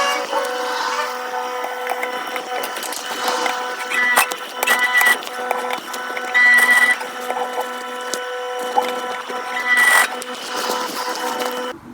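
A sewing machine stitches a tack back and forth across upcycled clothing, a steady mechanical whirr with faint rhythmic stitching ticks and brief louder bursts, running close and alone without talk.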